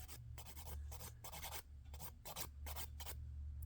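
A nail file rasps across gel nail polish in quick, rhythmic back-and-forth strokes, close and crisp, over a low steady hum.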